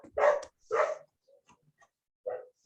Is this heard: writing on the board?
no